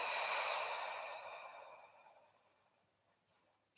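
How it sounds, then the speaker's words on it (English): A single long, deep breath out during a home yoga class, soft and airy, starting strong and slowly fading over several seconds, close to the microphone with no talking. "Take a couple of deep breaths."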